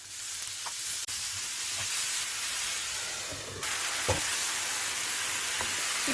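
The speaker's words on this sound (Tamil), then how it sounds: "தேவையான அளவு எண்ணெய், பச்சை மிளகாய், வெங்காயம், சிக்கனை சேர்த்து வதக்கிடலாம்." Chicken sautéing in oil with onion and green chili, a steady close sizzle and hiss of frying in a pan with faint stirring scrapes, continuous throughout.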